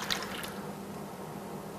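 Lukewarm water poured from a cup into yeast in a bowl for focaccia dough, a soft close trickle and splash with a brief brighter spill at the start, then a gentle continuous liquid sound.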